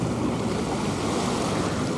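Surf washing in steadily at a small beach in Australia, a continuous broad wash of waves with wind rumble on the microphone, loud and close with no voices.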